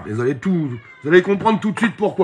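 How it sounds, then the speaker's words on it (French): A cat meows and grumbles in short, drawn-out complaining cries, close and fairly loud, interleaved with someone talking over it. "C'est le chat qui râle."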